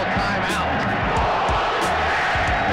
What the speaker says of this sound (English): It's the loudest manure chant I've ever heard